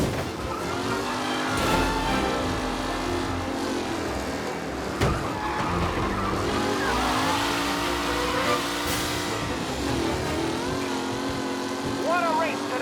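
Race cars in Mafia: Definitive Edition roaring and revving during a race, engines rising and falling continuously under a commentator talking.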